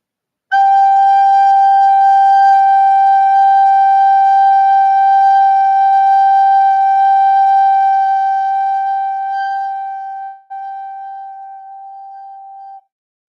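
A recorder sounds a single sustained G note, a pure, steady whistle-like tone held for about ten seconds, briefly broken, then resumed and fading out, played alone.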